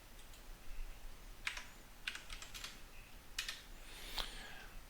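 Quick keystrokes on a computer keyboard as a number is entered into 3D CAD software, a few short clustered clicks spread over several seconds, fairly faint and close, with no talking.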